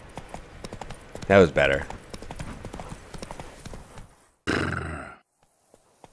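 Horse hooves clip-clop steadily in The Witcher 3: Blood and Wine, a continuous rhythmic patter under brief speech, with grunts and a burst of voice partway through before the hoofbeats fade out.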